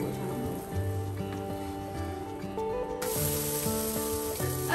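Dosa batter sizzles in oil on a hot pan, a constant close hiss that runs throughout, layered with steady tonal sounds and growing a little brighter partway through.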